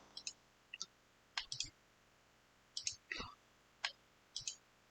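A computer mouse clicks sharply and close, about ten quick clicks in small irregular clusters, some in pairs, with a few soft low murmurs between them.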